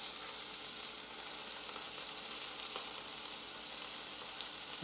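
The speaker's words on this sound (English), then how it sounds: "just browning off the meat" Beef browns in a hot pan for a slow cooker roast, giving a steady, close hiss of sizzling fat that runs unbroken throughout, with no talk.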